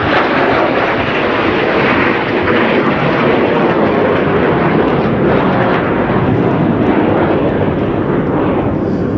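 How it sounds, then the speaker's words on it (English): Jet engine roar from a T-346 Master jet trainer flying a display at an air show, a loud, continuous broadband rush that holds steady throughout with no talk over it. "this is the T-346 Master"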